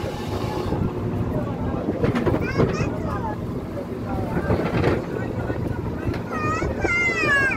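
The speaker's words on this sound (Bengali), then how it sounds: "ওই দেখছো কয়টা লঞ্চ একসাথে আসতেছে" Several passenger launches travelling together on a river, a steady engine drone and rush of wind and water heard from on board, with people talking throughout.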